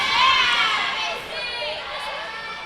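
Young female fans scream and shout in a high, continuous crowd din cheering for the Red Devils at a varsity volleyball match in a gym, loudest at first and then holding steady.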